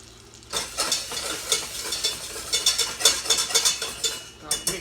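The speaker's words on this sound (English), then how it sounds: "Start mixing the onions in until they are a little glassy." Two scallions frying on high heat in a pan for a plant-based kohlrabi stew, stirred continuously with a utensil, giving a steady sizzle broken by rhythmic scraping strokes, close and fairly loud.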